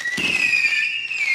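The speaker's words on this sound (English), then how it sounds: "As you see the fireworks, they light it up." Fourth of July fireworks: a burst of crackling blasts, then a long, loud, whistling rocket tone that holds steady almost to the end, with no talking.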